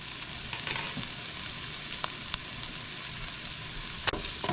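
Food sizzles steadily in a pan over low, slow heat while beef tips for gravy cook, a continuous soft frying hiss with a few faint clicks and one sharp clatter near the end.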